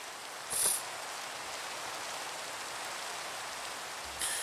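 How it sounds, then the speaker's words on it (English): Rain falling in Minecraft on a superflat world, a steady soft hiss of rainfall, broken twice by brief high-pitched blips. "being able to sleep in the rain whenever there's rain is very nice"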